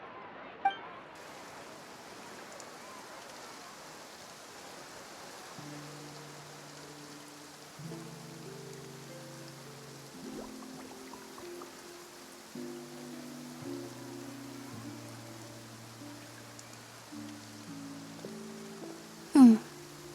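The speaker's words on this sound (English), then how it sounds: "Looks like rain." Rain falls in the video game Genshin Impact, a soft, steady patter of drops on surfaces under a gentle background melody, with a couple of brief clinking accents and no talk.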